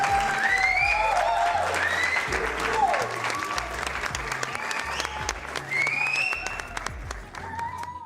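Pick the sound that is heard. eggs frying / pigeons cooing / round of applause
round of applause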